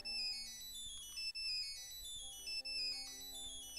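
A phone rings inside the Nancy Drew: Curse of Blackmoor Manor game, a bright electronic ringtone melody repeating in short bursts with brief gaps, steady and clear with no talk.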